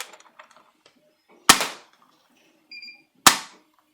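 A toy blaster fires AccuFake foam darts as two sharp, loud pops about two seconds apart, with light handling clicks and a brief squeak between them.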